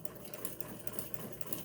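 A vintage sewing machine running free-motion stitches, a steady fast mechanical whir with rapid needle ticks throughout, close and fairly loud, with no voices.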